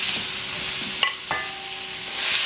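Meat stir-frying in sesame oil in a pan for a Korean dish, giving a steady broad sizzle with a couple of sharp utensil scrapes in the middle.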